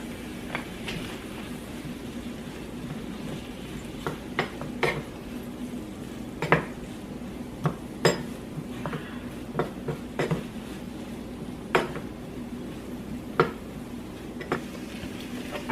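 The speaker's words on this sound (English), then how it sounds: "I'm going to go ahead and add the mushrooms now." A spoon clinks and scrapes against a pan as mushrooms are stirred into a low sizzle, sharp metallic taps recurring irregularly over a steady hum, close and clear with no talk.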